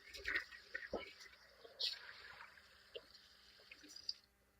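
Water runs and splashes while a bowl is rinsed out at a kitchen sink, coming as faint, intermittent splashes and drips close by.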